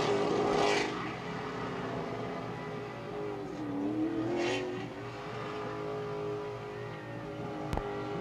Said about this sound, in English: John Hunter Nemechek will burn one out on the front straightaway.